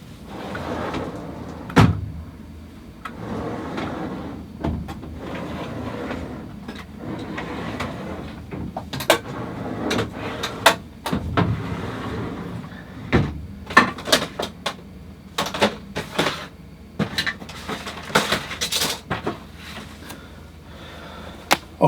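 Drawers and cupboards being opened, shut and rummaged through while someone hunts for a stencil, with irregular knocks, slides and clatters, some sharp and close, spread over a stretch with no talk.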